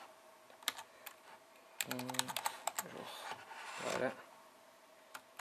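Keys tapped on a keyboard linked to a Sony Ericsson LiveDock, quiet scattered clicks that build into a quick run of typing, with a short spoken word in the middle.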